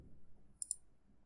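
Computer mouse clicking, two quick close clicks in a row, crisp and brief against near silence.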